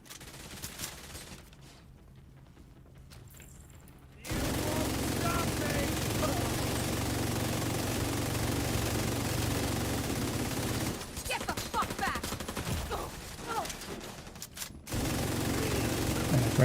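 Rapid automatic gunfire in a PvE shooter video game comes in loud, sustained bursts, cutting out briefly and then resuming. It is dense and close, with a quieter stretch before it starts.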